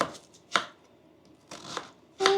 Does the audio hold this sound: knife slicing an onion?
yes